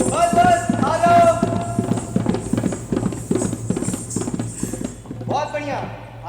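A horse running on the ground in an open-air stage play, its hooves clip-clopping in a steady, rapid rhythm up close, with people shouting and talking loudly over the galloping throughout.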